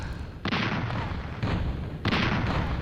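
Tower defense guns fire in the Flexbox Defense video game, heavy booming bursts that repeat about once a second in a steady rhythm, loud and close with no speech.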